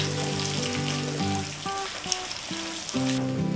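An egg is scrambled and fried in hot cooking oil, a continuous close sizzle that runs throughout, with tonal music playing over it.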